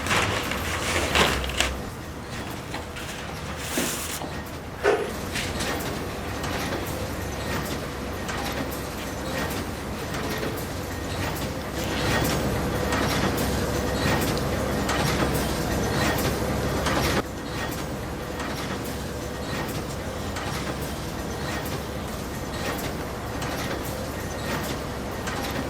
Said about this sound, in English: I decided to sit here and painting on my handmade canvas amongst the sounds of vintage machines